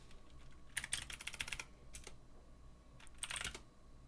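Keys clatter on a computer keyboard as a command is typed into a terminal, two quick bursts of close, crisp clicking separated by a short pause.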